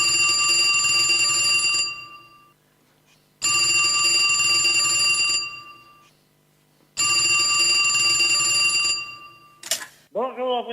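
A telephone rings in three long, loud bursts with silent gaps between them, then a short electronic tone sweeps up just before the answering machine picks up.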